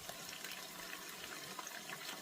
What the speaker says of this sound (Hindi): तो अब आप देख सकते हैं कि ये चिकन ने पानी छोड़ दिया है, ये भुन रहा है।